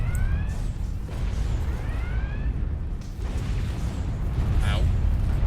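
Ship weapons fire in the Star Trek Online space game: repeated sweeping, whining energy zaps over a dense, rumbling low roar of battle effects, loud and continuous throughout.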